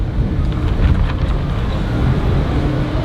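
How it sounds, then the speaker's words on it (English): Outdoor tarp at a Halloween Horror Nights stage area flapping in strong wind, a continuous rough buffeting rumble with irregular fluttering bursts, wind noise heavy on the microphone and no talking. "The tarp is just flapping in the wind."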